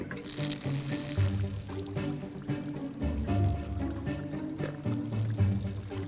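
Water pouring onto plants in the Desperate Housewives video game, a continuous splashing trickle with a low rumble underneath, steady and moderately loud.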